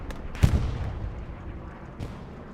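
Bombing run explosions in the World War II shooter Hell Let Loose land as a heavy, booming blast followed by a second fainter thud, distant and rumbling amid low battlefield noise.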